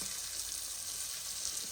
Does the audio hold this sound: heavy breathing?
no